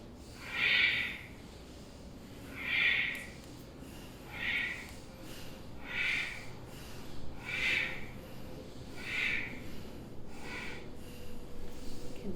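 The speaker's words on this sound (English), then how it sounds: "Inhale up, exhale down" Slow deep breaths during a Kundalini-style breathing exercise, six strong airy inhales and exhales evenly spaced about two seconds apart, close and alone against a quiet room hum.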